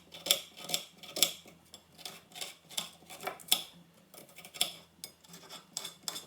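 A kitchen knife slicing food into small pieces on a cutting board, about a dozen crisp close taps in an uneven chopping rhythm, with no talking.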